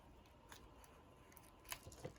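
Small, sharp, pointy scissors snip at a playing card being altered by hand, a few quiet crisp cuts and clicks with the louder snips near the end over a faint background.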